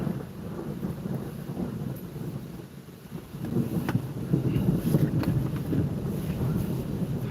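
Thunder rolls through a storm amid wind and rain, a steady low rumble that dips briefly and then swells louder and closer, with no talking.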